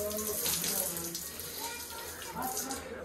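Water gushes steadily from newly fitted taps in a village home, a continuous splashing flow, with faint voices in the background.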